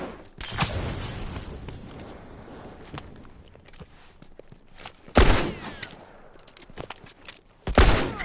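Rifle gunfire in The Last of Us, with sharp loud shot bursts at the start and again near the end, and scattered footsteps and scuffling between them.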